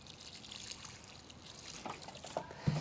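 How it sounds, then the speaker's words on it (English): Water poured by hand over freshly divided hellebore plants in a garden, a faint, quiet trickle and dribble that grows slightly louder toward the end. "I'm going to make sure to water both this plant and the other one just to help them get situated"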